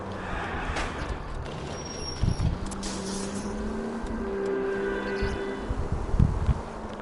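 A car driving in the video game L.A. Noire: a steady engine drone with shifting pitch as it accelerates, plus a couple of low thumps, heard fairly close and continuous.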